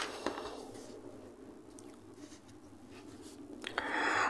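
A pen scratching across paper during a vernier-scale physics lesson, with soft, irregular strokes that are close and fairly quiet, ending in a brighter burst of scribbling.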